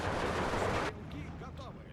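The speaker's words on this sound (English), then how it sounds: "Those bombing strikes are so spot on." Bombing strikes in the wartime strategy game Steel Division 2, a loud, dense roar of blasts and gunfire that cuts off abruptly, leaving fainter scattered rumbles and chirping effects behind.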